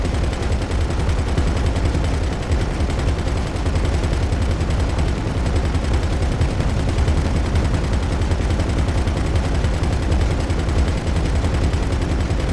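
Sustained rapid gunfire in GTA Online shooting down a target, a loud, dense stream of automatic bursts and booms running for over twelve seconds without a break.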